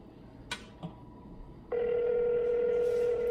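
A phone sounds a couple of short dialing blips, then a steady, loud ringback tone hums on while the call connects.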